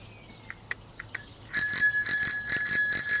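A bicycle bell rings in a few quick, light taps, then rapid repeated ringing, close and loud, with no talking.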